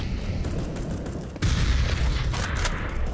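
A grenade blast in CS:GO on the Overpass map during a pro match, a sudden muffled boom midway that lifts into a sustained rumble over steady background noise.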